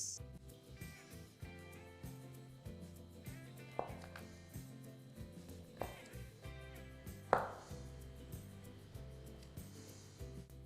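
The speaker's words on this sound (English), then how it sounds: "We make slices that are not too thin and not too thick, like this." Knife slicing a peeled boiled potato on a cutting board, a series of soft, irregular chopping taps, a few sharper knocks standing out, heard alone over quiet background music.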